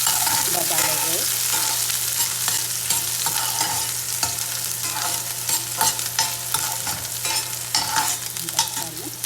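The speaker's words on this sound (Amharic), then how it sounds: "ሽንኩርታችንን በጋለ ዘይት" Onions frying in hot oil in a home kitchen pan, a steady loud sizzle and crackle with stirring scrapes running throughout, close and continuous without talk.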